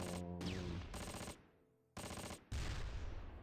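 Gunfire aimed at a Sherman tank in the Close Combat war game: loud bursts of shots in separate clusters broken by short gaps, with a faint whining ricochet early on.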